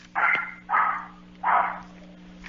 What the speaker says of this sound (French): d'habitude, quand un chien jappe, c'est qu'il y a de la présence nouvelle qui s'en vient